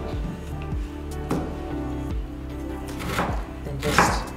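A knife chopping through food on a cutting board in a home kitchen, several firm, irregular thuds under a low background hum.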